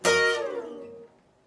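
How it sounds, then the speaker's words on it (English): On a guitar, three strings picked together at the 12th fret ring out bright and close, then slide down the neck, the tone dropping and fading over about a second. "I'm going to continue to press down firmly with my ring finger and slide down the neck of the guitar"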